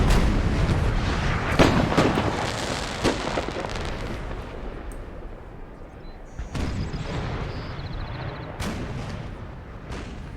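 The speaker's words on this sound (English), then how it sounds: "The guns for the Prussians are now firing as well." Prussian artillery guns fire in the Napoleon: Total War game's Battle of Waterloo around Plancenoit, a series of heavy booms landing in uneven bursts over a constant rumbling battle din.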